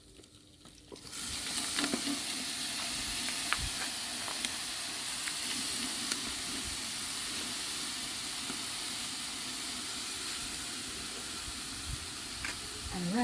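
Jerk pork sizzling and frying in a pan after a splash of Red Stripe beer, a steady close hiss and crackle that starts abruptly and holds level with small pops, plus occasional faint utensil sounds.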